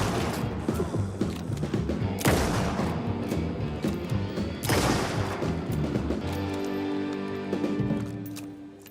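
Two heavy rifle blasts in Alan Wake 2, loud and close, spaced a couple of seconds apart, each with a booming tail over tense game music.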